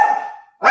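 A puppy gives two sharp, loud, close barks in quick succession, separated by a brief gap, with no talking.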